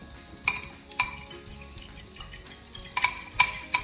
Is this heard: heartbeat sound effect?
no